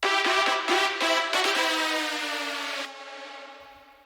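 A supersaw synth holding an E note, with pitch bend automation and reverb for a transition, pulses in short chopped bursts before sliding into a sustained tone that drops in level and trails off with a reverb tail.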